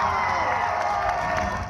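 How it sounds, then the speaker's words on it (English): A dense crowd cheers and whoops steadily at loud volume during a demonstration, with scattered shouts and a few claps in the roar. "You could hear the cheers erupting in the crowd."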